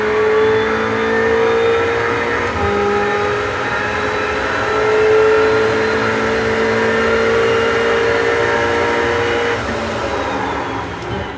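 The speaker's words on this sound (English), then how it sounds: "I'm going to let you guys listen to the fans go all the way up from this to the end" Wind simulator fans during a sim racing session, a steady broadband whoosh that swells gradually toward full speed over several seconds, mixed with car engine and tire noise, without any talk.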